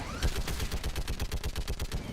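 Rapid automatic fire from a Geth turret in the Mass Effect video game, a steady burst of evenly spaced, punchy shots rattling continuously at close range with no voices over it.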